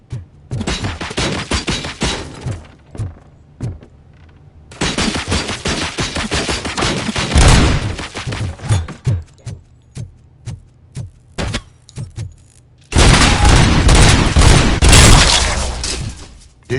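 UED robots in a video game shoot in three long, loud stretches of rapid automatic gunfire close by, separated by brief lulls with scattered single shots and impacts.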